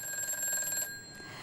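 A telephone bell rings on a Korean TV stock-trading call-in show for an incoming viewer call: one short, bright electronic trill, moderately loud, that stops abruptly after less than a second.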